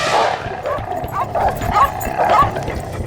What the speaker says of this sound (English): Like wolves, dogs hunt by instinct, going for the legs or neck to bring down a large animal.